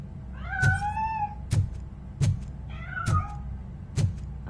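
A cat in the video game RoboCop: Rogue City meows twice in drawn-out, rising cries, mixed with several sharp thumping footsteps, close and clear with no talk.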